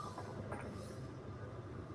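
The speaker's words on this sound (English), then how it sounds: "We got a train rolling through." A train rolls past as a low, continuous rumble of wheels and cars with faint high squeals and clatter mixed in, steady and somewhat distant, fairly quiet throughout.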